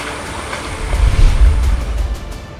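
A boat carrying schoolchildren across floodwater around a village in Gorakhpur, cut off by the Rapti river, with a steady low rumble of water and wind noise on the microphone, loud and close, no voices.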